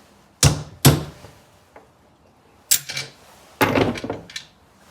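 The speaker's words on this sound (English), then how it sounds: "Generally not a good idea to beat on a bolt with a hammer" A hammer strikes a bolt in a garage, a few sharp metallic whacks in irregular clusters, close and loud, with a ringing clang on some blows and quiet gaps between, no talking.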